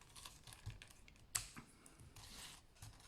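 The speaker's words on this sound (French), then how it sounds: "On va prendre des vrais ciseaux. Hop. Et on va couper donc des morceaux." Real scissors snip short lengths off rolled newspaper strips for a woven newspaper basket. Several quiet, dry crisp snips come at an uneven pace, with one sharper, louder cut near the middle, and no talking.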